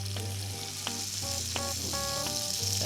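Butter-rich food sizzles steadily in a dry pan with no oil, a constant close crackle with faint tonal hum underneath.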